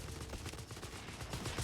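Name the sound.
machine gun fire in video game Company of Heroes 3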